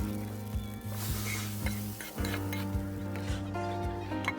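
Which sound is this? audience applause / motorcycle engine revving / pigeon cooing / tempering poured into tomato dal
tempering poured into tomato dal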